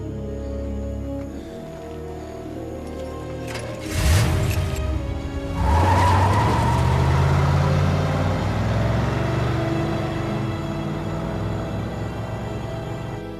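A car starts up and pulls away hard, the engine revving loudly and holding a sustained roar with a rising squeal over the top, the noise building abruptly after a quieter stretch and carrying through to the end.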